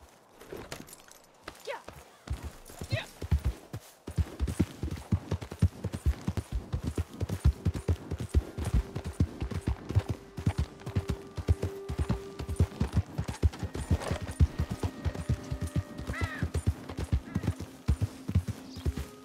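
A horse in a video game played on Linux gallops steadily, its hooves clip-clopping in a fast, even rhythm throughout, loud and close, with faint tonal game sounds underneath.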